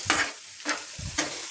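A spoon stirs a potato and small-onion fry with chili powder in a hot pan, three distinct scraping strokes over a soft sizzle, close and clear with no voices.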